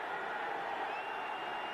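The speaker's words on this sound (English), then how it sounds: "a roused St. Louis crowd appreciating the defensive work" A roused home crowd at a St. Louis Cardinals football stadium in 1984 cheers appreciatively after a defensive stop against the Chicago Bears, a steady, broad, distant roar sustained throughout.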